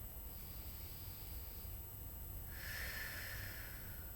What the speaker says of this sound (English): taking a deep breath